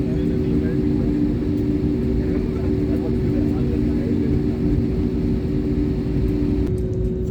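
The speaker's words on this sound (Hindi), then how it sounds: "और हमारी फ्लाइट भी रनवे पर अपनी चाल बढ़ा चुकी है।" Inside the cabin of a passenger jet flying from Port Blair toward Kolkata and New Delhi, a loud, steady engine roar and hum fill the space as the aircraft speeds down the runway for takeoff.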